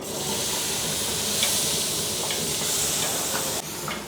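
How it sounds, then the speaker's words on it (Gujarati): Onion puree sizzles and hisses steadily in hot oil in a street food kitchen, a loud close frying sound with occasional stirring scrapes and no speech. "હવે છે ને કાંદાની પ્યુરી આવશે, એને બરાબર તેલમાં પકાવવી પડશે"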